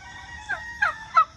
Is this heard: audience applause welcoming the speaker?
no